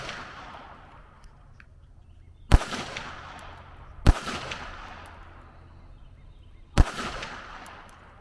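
Handgun shots during CCW pistol training, three sharp loud cracks spaced a couple of seconds apart, each ringing out with a decaying echo against a quiet outdoor range.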